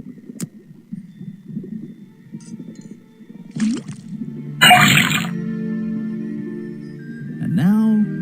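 Liquid sound from tapping a faucet over a cauldron in the Detective Grimoire puzzle game: a sudden burst of gushing, splashing pour that settles into a steady hum, with low murmuring before it and a rising warble near the end.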